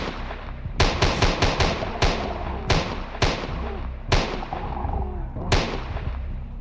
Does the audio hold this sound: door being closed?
no